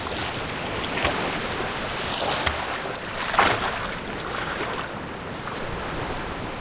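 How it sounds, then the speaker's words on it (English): Ocean waves wash and surge in a continuous rushing wash with wind, a few swelling peaks of breaking surf, no voices. "Every wave has its own unique shape, and every tide has its own distinct sound."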